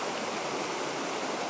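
River water flows steadily through rough, wild trout country, a close, even rushing hiss with no breaks or other sounds.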